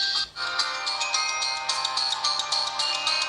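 Ringtone melody from the Oukitel U7 Plus phone speaker, tinny and treble-heavy with almost no bass, a quick repeating pattern of bright notes running continuously.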